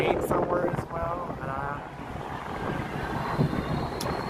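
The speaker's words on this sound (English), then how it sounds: "I know the wind is pretty strong." Strong gusts buffeting the microphone outdoors at an elevated spot near an amusement park, loud rumbling wind bursts that swell and fade, with a faint distant plane drone and a voice talking over it.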